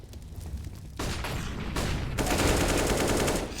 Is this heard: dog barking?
no